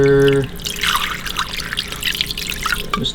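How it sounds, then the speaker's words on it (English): Water poured into a slow cooker holding a grouse, a steady close trickle and splash that starts after a brief tonal beep and runs on without talk. "Put the guy in here, press down, and we'll add a little bit of water."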